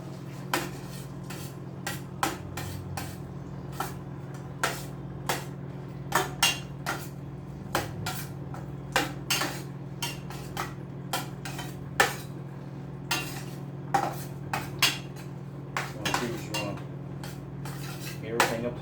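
Utensil scraping and knocking against a pot while chicken broccoli macaroni is mixed, a steady series of sharp metallic clinks over a constant low kitchen hum.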